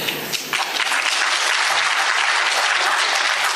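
An audience of graduates at the New Economic School in Moscow breaks into loud, sustained applause after a speech, a dense close wash of clapping with no talk.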